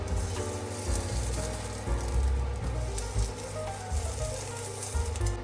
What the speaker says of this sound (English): Grill the onigiri until lightly toasted on the dry pan.